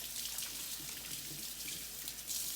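Hands being washed under a running kitchen faucet before bread making, a steady hiss of flowing water with faint splashing, close and continuous.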